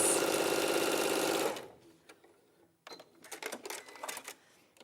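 A sewing machine runs steadily at speed stitching bias binding, loud and continuous for over a second before stopping, followed by quieter clicks and handling noises.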